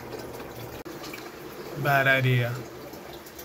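Water pours from an overhead aquarium filter sump back into the tank, a steady wash of running water throughout with a person briefly talking over it midway.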